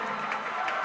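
A packed crowd cheers at the Richards Building during a 6A state swimming final. The roar is brief and dense, indoors and reverberant, and holds steady the whole time.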